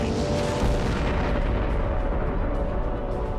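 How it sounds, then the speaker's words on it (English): A big bang explosion effect: a sustained, dense roaring boom filling the whole stretch at steady high loudness, deep and rumbling with no break or voice. "a mysterious event thrust the universe into motion"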